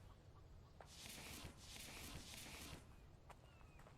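In The Infected survival game, a chicken clucks faintly against a steady outdoor ambience, with soft bursts of rustling and a few light taps or footsteps.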